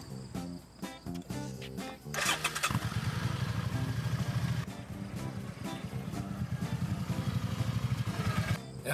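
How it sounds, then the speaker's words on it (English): Motorcycle engine starting up and revving, a loud continuous engine rumble after a brief clattering start, with music-like tones mixed in. "I love riding motorcycles"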